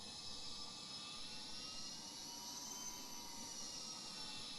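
Rocket engine in the video game SimpleRockets 2 throttling up, a steady loud roaring rush with a rising whine, continuous and close, with no talk.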